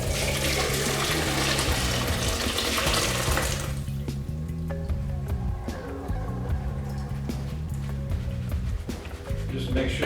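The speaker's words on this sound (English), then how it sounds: "We're going to drain out all the solids in there." Chicken broth for egg noodle soup pours through a strainer, a loud continuous rush of liquid that thins partway through into a steady trickle and splashing.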